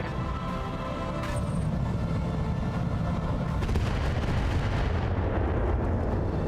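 Airstrike explosions in BattleTech RogueTech, heavy rumbling blasts rolling one into another, loud and dense, with a sharper crack early and a sustained low roar throughout.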